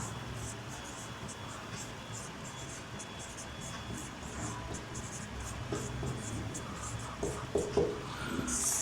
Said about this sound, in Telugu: కానీ ఇప్పుడు నేను ఒకటి రాస్తున్నాను చూడండి